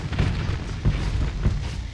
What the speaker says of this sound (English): We're going to launch missiles at him